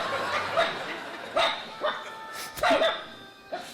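Two dogs bark and snarl while fighting, sharp yelps and growls arriving in irregular bursts at close range, with faint background talk.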